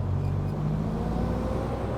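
A car rolls closer along a quiet dead-end county road, a steady low engine and tire hum holding at even loudness throughout, with no voices.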